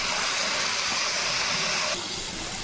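Ginger, garlic and chili paste hitting a hot frying pan with onions and tomato, giving a loud, steady sizzling hiss that runs the whole time and eases slightly near the end.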